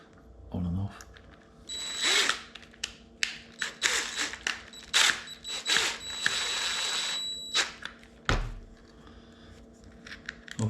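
Cordless power drill whirs in repeated short trigger bursts up close while servicing a Daiwa Sealine Slosh X40 fishing reel, interspersed with clicks, clatter and brief pauses.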